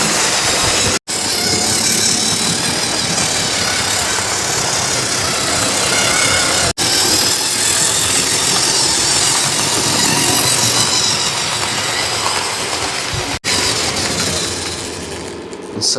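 A model railway Airfix Castle class locomotive hauling LMS coaches runs around a layout, giving a steady, loud mechanical whirr and rumble that continues throughout with a few abrupt brief cuts.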